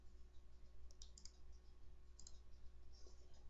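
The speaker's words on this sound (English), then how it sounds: "Hit your Delete key." Single keystrokes on a computer keyboard, including a press of the Delete key, with a few soft clicks spaced apart in a quiet room.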